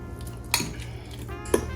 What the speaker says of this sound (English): Make sure my yolks are broken up good and mixed into the mayonnaise